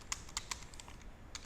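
Keystrokes on a computer keyboard while entering text for a web page, a few quick clicks in a cluster, then a pause before two more taps, close and fairly quiet.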